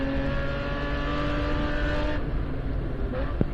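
Racing cars at Mid-Ohio, including a BMW M4, an Aston Martin and a Hammer Motorsports Audi TCR, drone past with sustained engine whine, then the sound eases as they move into the distance.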